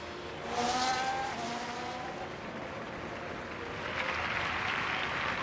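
In the F1 Manager 23 racing game, Perez's race car gets going again after being stalled: a rising engine whine with a faint tire-squeal edge over a broad roar of crowd and track noise.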